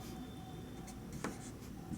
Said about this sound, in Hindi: लिखते हैं जरा